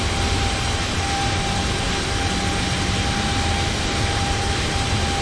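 Boeing 787 jet airliner rolling down the runway for takeoff in Microsoft Flight Simulator, a steady, loud broadband engine roar with a faint whine, continuous and unbroken throughout.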